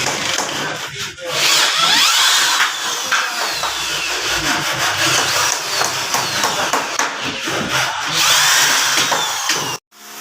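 A power drill drives screws into wood, with loud, continuous whirring and grinding close by, a few brief pauses, and a sudden cutoff near the end.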